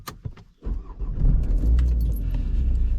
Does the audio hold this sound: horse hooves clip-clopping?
no